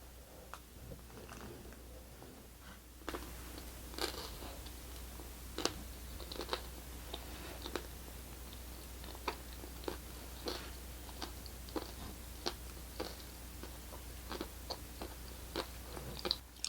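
Someone bites and chews a Tim Hortons Canada Day firecracker donut topped with popping candy, making a steady series of faint, close crunching and crackling snaps over a low room hum.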